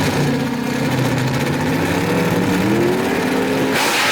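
Drag race cars launch off the start line at Knoxville Dragway, a loud, sustained engine roar with rising revving tones that stays continuous and close.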